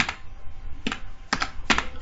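Keys clack on a computer keyboard while C code is typed, a few sharp, close taps spaced irregularly, with a quick double strike near the end and no voices.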